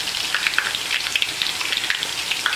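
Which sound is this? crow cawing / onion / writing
onion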